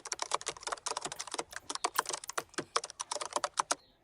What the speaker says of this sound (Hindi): टाइप करना है रील्स